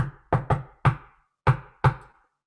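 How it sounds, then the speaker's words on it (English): Knocking on a door, five sharp raps in uneven rhythm (two quick, one, then two spaced) with crisp attacks and short decays in a quiet room. "But then one day there was a knock on the door."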